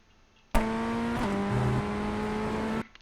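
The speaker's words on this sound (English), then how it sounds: "just picking up the throttle, unwinding the wheel, and working your way up through the gears" Ray FF1600 race car in iRacing at Oulton Park accelerating hard up through the gears, a loud steady engine whine with a brief gearshift dip, close and alone, cutting off sharply at the end.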